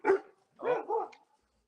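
An Akita dog barks indoors, one sharp bark followed by a pair of lower, drawn-out woofs, fairly faint and slightly distant, with no talking over it.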